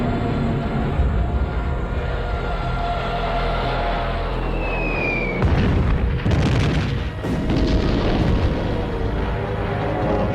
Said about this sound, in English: Hitler orders the bombing of Warsaw